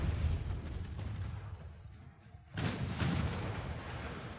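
Battleship guns firing in the naval video game Ultimate Admiral Dreadnoughts, heard as heavy booming blasts over a steady rumble, with a strong salvo toward the end, fairly faint overall.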